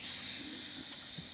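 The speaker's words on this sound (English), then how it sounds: "we're going to just gently, I'm on the wrong side, gently vent that steam right onto my camera" Steam hissing as it's vented from a cooker during a Blackstone griddle chicken Parmesan cook, a steady airy rush filling the short moment with no voices.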